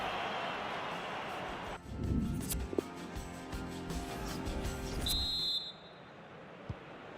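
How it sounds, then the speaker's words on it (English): A short, bright referee's whistle blast sounds once amid crowd and stadium noise during a FIFA 19 football match, marking half-time. "that's the referee signalling for half-time, blowing his whistle"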